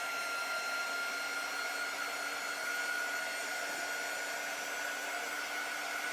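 A hair dryer blows steadily over chalk paste on fabric, giving a constant whirring hiss with a fixed motor tone that stays even and fairly close for the whole stretch, without speech.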